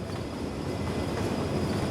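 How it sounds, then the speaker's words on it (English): A train rumbles past in a rail-themed video game, a dense continuous roar with rolling wheel noise, loud and steady throughout with no pauses. "I think I know what that train was"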